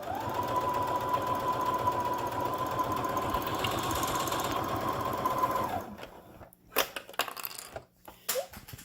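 A sewing machine runs steadily for about six seconds, stitching a three-layer fabric face mask, then stops, followed by a few light clicks and handling noises.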